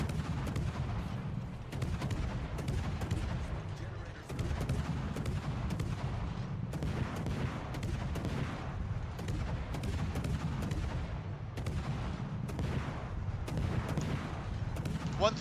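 Naval gunfire from warships in World of Warships, including an Alaska and a Kitakaze destroyer, rings out as a dense, continuous barrage of booming shots and rapid volleys, loud and unbroken throughout, with scattered sharp blasts punctuating the rumble.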